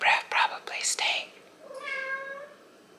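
A house cat gives one drawn-out, rising and falling meow, close and clear, right after a few soft breathy vocal sounds in a quiet, unheated home.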